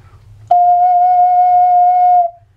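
Close, solo note F sounded on a 12-hole ocarina: a smooth, pure, breathy tone that starts abruptly and holds steadily for under two seconds before tapering away.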